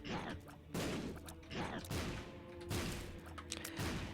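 Several booming bomb blasts from The Binding of Isaac: Rebirth burst in quick succession, loud, thudding game explosions landing roughly every second with crackling tails, one overlapping the next.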